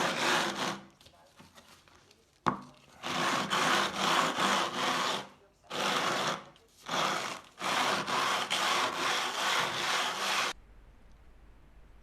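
A stone block is rubbed back and forth on black granite with abrasive, giving a loud, gritty rasping in long repeated strokes with brief pauses between passes, close up.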